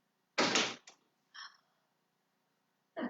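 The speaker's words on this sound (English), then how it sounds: "let me close the door all the way" A door thuds shut nearby with a short latch click after it, then a brief rattle and another knock a moment later in an otherwise quiet room.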